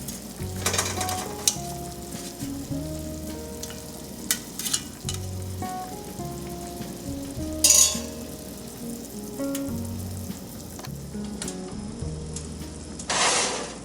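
Burdock root and vegetables simmer under an otoshibuta drop lid, a steady soft bubbling sizzle running throughout with occasional light clinks and taps of utensils against the pot.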